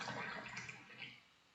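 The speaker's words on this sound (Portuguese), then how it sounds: "Aqui, ó, 500 ml de água em ponto de fervura." Near-boiling water is poured into a measuring cup, giving a brief splashing, gurgling stream that fades out toward the end, close and fairly quiet.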